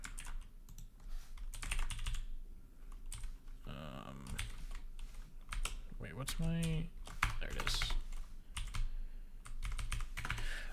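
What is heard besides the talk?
typing on a computer keyboard while coding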